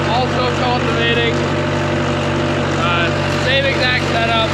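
A tractor works a cornfield in Vermont, pulling a homemade cultivator through the rows; a steady, loud engine drone fills the scene from start to finish with faint higher chirps over it, and a voice speaks over the noise.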